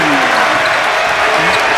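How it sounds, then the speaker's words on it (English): A basketball crowd at the Farrell Center makes noise in a dense, steady wash of cheering and applause, with a commentator talking over it. "Crowd at the Farrell Center making some noise."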